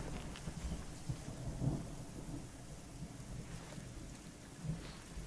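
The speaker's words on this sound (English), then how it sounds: "We got struck by lightning." Lightning strikes in the video game Deponia, heard as a low thunder rumble under a steady wash of rain, with a soft swell of thunder early on and another near the end, fairly quiet overall.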